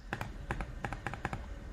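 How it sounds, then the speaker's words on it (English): Quick bursts of small plastic clicks in uneven clusters come from a computer input device clicked as fast as possible, close and steady with no talking. "So I'm clicking this as much as I can, and it's forcing re-renders."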